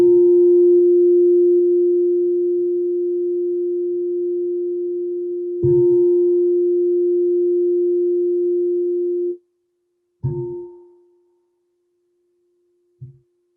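A meditation bell struck three times during a closing practice: one long, pure sustained ring that fades, a second strike that rings on, and a shorter third stroke, each leaving a clean resonant tone alone in silence.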